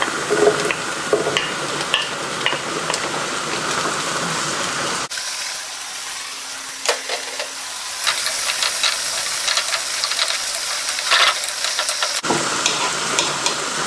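Onion and garlic sizzle and fry steadily in a pan for a shrimp scampi pasta, with continuous hiss and crackle and occasional stirring scrapes, close and fairly loud throughout with no talk.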